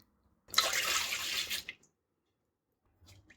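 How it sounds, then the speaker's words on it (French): Warm water and milk pour into a mixing bowl, a close, steady rushing splash lasting about a second before trailing off, followed by a faint knock. "dans un saladier, on verse l'eau tiède,"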